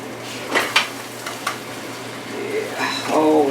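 Green tomatoes frying in oil in a pan, a steady sizzle with a few clinks of a utensil against the pan, moderately loud and close.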